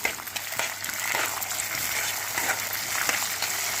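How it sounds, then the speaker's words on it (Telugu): Green chilies frying in a pan for mealmaker kurma give a continuous, broad sizzling hiss, close and steady, with a few faint crackles and pops scattered through. "పచ్చిమిరపకాయలు అన్నీ బాగా వేగుతూ ఉంటే దీని టేస్ట్ బాగా ఎక్కువ అవుతుంది."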